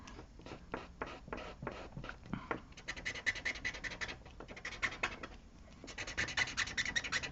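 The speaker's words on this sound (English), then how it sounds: "And you can hear the marker kind of moving" A Faber-Castell Pitt artist pen marker scratches across art journal paper in quick, close strokes, first as separate short scrapes, then in denser bursts of rapid scratching.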